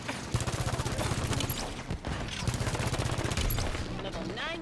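Rapid automatic fire from Jorge's Chaingun shooting explosive rounds in Halo 5, a dense sustained rattle of shots with a short break midway, loud over game ambience.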